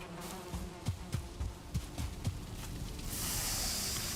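Bee buzzing from a Viking video game hums underneath a series of soft, evenly spaced thuds like footsteps, before a broad hiss rises near the end; no one speaks.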